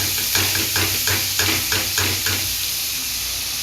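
Finely chopped garlic hits a hot pan, setting off a loud steady sizzle with a series of rhythmic stirring scrapes at first that fade into continuous frying hiss.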